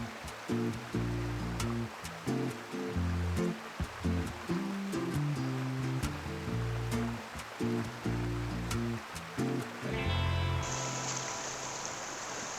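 A hidden river stream flows as a steady broadband rush of water, continuous throughout, under a rhythmic low-pitched musical backing that plays from start to finish.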